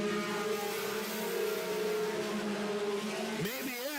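Four-cylinder race cars roar through a 10-lap heat race at a short track, a continuous engine drone that swells and sweeps in pitch near the end as a car passes close by.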